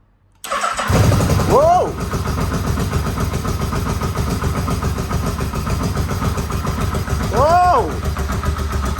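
A neglected, rough-condition Yamaha Vmax motorcycle fires up on the first kick and settles into a loud, steady, close idle, while excited voices shout over it.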